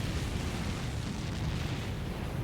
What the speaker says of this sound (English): Ooh, fire breath.